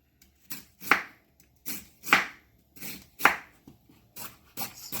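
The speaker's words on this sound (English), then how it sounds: "I'm just gonna keep slicing my cabbage" A knife slices through cabbage for stir-fried cabbage in a steady run of about eight crisp cuts, each a sharp crunchy chop a little over half a second apart, heard up close with no talking.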